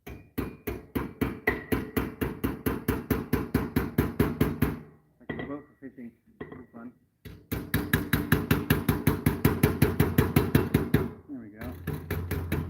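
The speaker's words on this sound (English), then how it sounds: "You guys like hammering, that's what we're doing. Getting some edges rolled over." Rapid, evenly spaced hammer blows ring out on metal, rolling over sharp edges in long steady bursts with short pauses between, while someone talks quietly during a gap.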